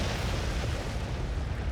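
A deep, sustained rumbling blast from a nuclear strike on a city in a strategy war game, a continuous low roar filling the space, loud and steady without talk.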